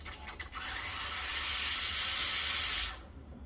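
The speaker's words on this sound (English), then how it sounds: "the steaming power on the Quick Mail Rubino is actually very powerful" The steam wand on a Quick Mill Rubino espresso machine hisses loudly and steadily for about three seconds, building slightly before cutting off abruptly into near silence.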